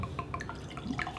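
Rogue whiskey being poured into a glass, a faint trickle broken into soft drips and splashes, close and quiet, with no voices.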